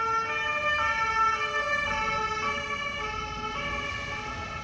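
A police siren passes outside, its wailing tones loud and steady throughout, with road traffic rumbling faintly underneath.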